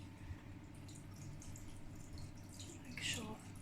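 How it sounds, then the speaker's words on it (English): Tap water runs steadily over houseplant leaves as they are rinsed by hand to clear off pests, a soft continuous splashing with a brief brighter spatter near the end. "So just run them under water, and I just massage the leaves."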